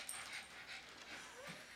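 Small pug whimpering during a playful wrestling match, a faint, close, breathy whine with soft panting that rises and falls over a couple of seconds, without speech.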